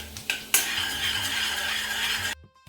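Chopped ginger sizzling in a hot pan over a medium-high flame, a steady broadband frying hiss with a few sharp stirring clacks near the start, then the sound cuts off abruptly.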